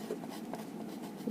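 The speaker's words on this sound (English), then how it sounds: "So right here I'm going to write the word network." Pen or marker scratching across paper by hand while writing out a single word, a close, steady scribbling texture with brief strokes and pauses, no voices.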